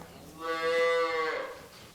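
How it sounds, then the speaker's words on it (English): A native British Dairy Shorthorn cow gives a single loud, close moo that swells and then fades, heard on its own. "So she is a native British Dairy Shorthorn."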